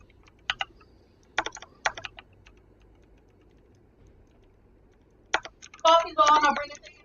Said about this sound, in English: I'm typing to someone